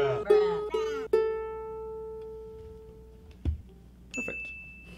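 Ukulele E and A strings being plucked and tuned: several bright plucked notes ringing out and sustaining, a soft thump, then a higher string plucked and left to ring, close and clear.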